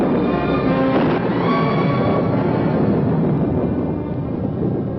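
A heavy thunderstorm rumbles with a continuous, dense roar of thunder, loud and close, with a sharper crack near the start and a sustained rolling tail.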